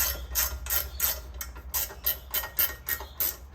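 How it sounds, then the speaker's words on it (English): Two spanners working a 14mm stud nut loose on a warped turbo manifold. The result is a steady series of about a dozen sharp metallic clicks and ratcheting snaps, close and evenly spaced, with no voices. "Get two 14mm spanners or whatever size the actual nut is, in this case 14. Give them a little nip up and you can undo the"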